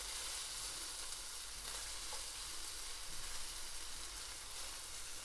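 Chillies frying in a pan in a home kitchen, a steady bright sizzle that holds evenly throughout with no talking.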